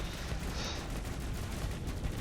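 Intercept cannon firing in the video game Astroneer, heard as a dense burst of crackling, rapid blasts forming a continuous noisy barrage with no talk.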